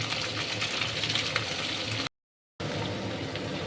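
Ivy gourd frying in oil seasoned with salt, turmeric and a little chilli powder gives a steady, dense sizzle with no talk, broken by a short silent gap before the crackle resumes.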